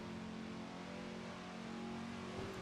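A 1967 Le Mans race car in Assetto Corsa holds a steady, loud engine drone with a sustained tonal whine, shifting pitch slightly near the end as it changes gear.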